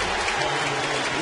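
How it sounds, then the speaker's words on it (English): Crowd applause at a Yankee Stadium baseball game, a steady broad wash of clapping from a large stadium crowd, moderately loud and continuous throughout, with faint voices mixed in. "A-Rod gets a nice hand from the crowd"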